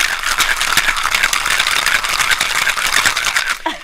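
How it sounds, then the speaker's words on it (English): Ice rattles hard and fast in a heavy cocktail shaker, a loud, steady churning clatter that ends in a final knock. "did you hear those ice chips start to break up?"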